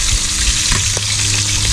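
Fish frying in hot cooking oil, a loud close continuous sizzle with bubbling crackles and a few spatters, with no talking.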